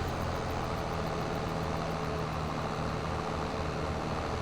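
A tractor engine in Farming Simulator 22 drones in a low, steady rumble, slightly bogged down under the weight of heavy equipment, continuous and close with no talk.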